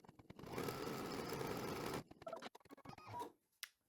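Embroidery machine stitching an in-the-hoop table runner, tacking fabric down with a steady, dense mechanical whir for about two seconds, then stopping into scattered clicks and handling noises.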